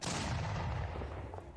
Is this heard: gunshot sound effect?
yes